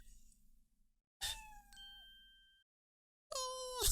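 A cat in the video game Professor Layton vs Phoenix Wright gives two clear meows, a longer drawn-out cry followed after a pause by a shorter one, set against quiet game ambience.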